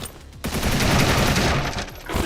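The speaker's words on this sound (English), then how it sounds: "I also shoot the grenades out of the gun" A weapon in a boomer shooter video game fires a rapid burst of grenade shots, a dense loud barrage of blasts lasting under two seconds after a brief quiet start.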